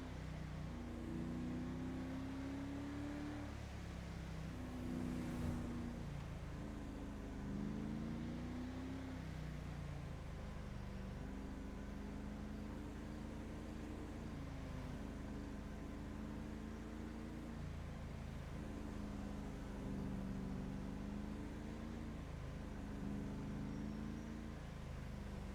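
Car engine droning steadily while driving in GTA 5, a continuous low hum with gear-shift pitch steps rising and dropping in a repeating pattern, moderately loud and alone.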